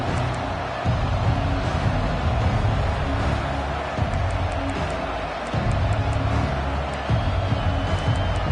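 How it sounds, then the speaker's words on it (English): Stadium crowd in College Football 25 produces a steady roar of cheering and murmur that swells and dips slightly throughout, with no talk over it. "And this crowd coming to life here"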